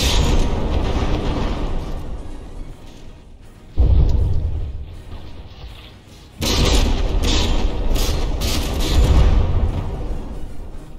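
In the From the Depths battleship game, shells blast a big chunk off the Bismarck's superstructure: two loud booming explosions hit a few seconds apart, each followed by a rumbling tail over a continuous battle din.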